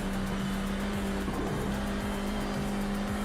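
An F4 open-wheel race car in iRacing at Circuito de Jerez holds a steady, droning engine note at constant pitch, loud and continuous, with brief tire scrubs and no talk.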